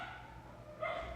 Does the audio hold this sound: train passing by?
no